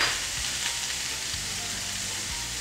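Artichoke hearts sizzling in a pan with kale and garlic, a steady close hiss of frying with faint low knocks, no voices.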